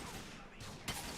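Gunfire in Grand Theft Auto IV, a short burst of shots with a sharp loud crack near the end over a busy game background.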